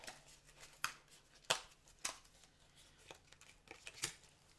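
Scissors snipping paper to fit a frame, a few crisp, separate cuts spaced about a second apart over quiet room noise, close and without talking.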